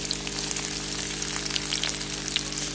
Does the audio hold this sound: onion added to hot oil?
yes